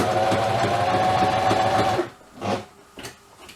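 Sewing machine stitching the hem of a pair of jeans, a loud steady mechanical whirr for two seconds, then stopping, followed by a few brief fainter handling sounds.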